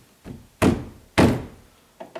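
A loose double door handle is pushed into place, giving three solid, close thunks spaced about half a second apart, each followed by a short fading rattle, with a faint tap at the end.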